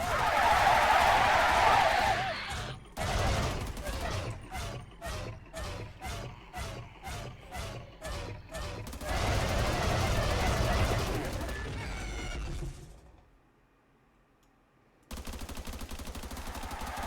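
Gunfire in Deceasedcraft, a Minecraft modpack: about a dozen evenly spaced, sharp shots in a regular rhythm, set among louder, busier game noise, then a drop to near silence before the noise returns.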